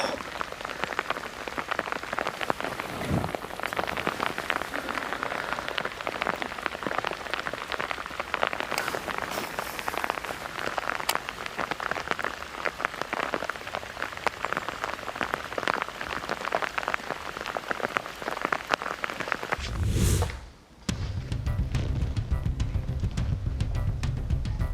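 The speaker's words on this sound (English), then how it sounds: "Zaldain getting the rain he wanted" Steady rain hissing onto the surface of Lake Martin, dense and constant for the whole stretch, with one brief dip and a low rumble late on.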